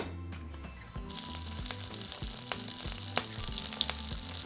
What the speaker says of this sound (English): heat a tablespoon of olive oil and 2 tablespoons of unsalted butter in a large frying pan